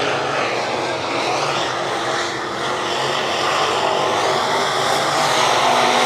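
Race cars on a 3/8-mile high-banked speedway during heat races, a steady loud engine roar running unbroken through the whole stretch with broad mechanical noise and no clear breaks.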